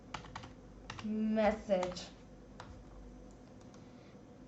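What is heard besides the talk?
typing on a computer keyboard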